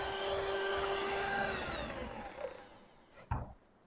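An electric mixer whirs steadily while beating butter cream for cupcakes, a loud close motor drone that fades and winds down toward the end, followed by a couple of knocks.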